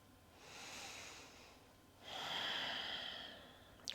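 Two slow, soft breaths during a beginner-friendly evening yoga stretch, the first a long airy inhale and the second a louder, fuller exhale, heard close and quiet.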